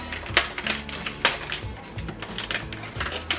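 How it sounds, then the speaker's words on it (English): Rice packets are cut open in a kitchen, giving a quick series of sharp clicks and snips, close and fairly crisp, with no talking. "I'm gonna cut the packets."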